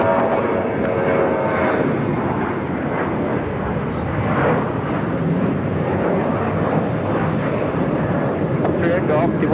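Cathay Pacific Boeing 777-300ER airliner arriving at LAX from Hong Kong, a loud continuous roar of jet engines filling the air throughout, steady and close, with a faint radio voice underneath.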